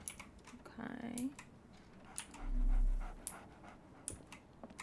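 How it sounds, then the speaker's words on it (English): A dog pants in quick, breathy bursts in the Sherlock Holmes: The Awakened video game, close and fairly loud, while sharp computer keyboard clicks tap at intervals. "Wait, is there a dog?"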